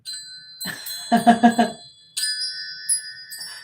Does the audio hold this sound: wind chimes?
yes